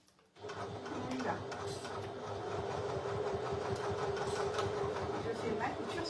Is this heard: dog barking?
no